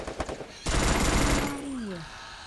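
Vector submachine gun firing in a shooting video game: a dense, loud burst of rapid automatic fire lasting under a second, preceded by a few lighter clicks and followed by a falling whine and low rumble.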